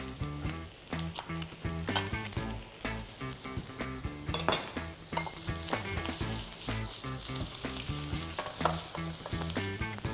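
Butter sizzling loudly in a pan with mushroom and smoked beef for a homemade pasta sauce, a steady dense crackle that carries on without a break and with no voices.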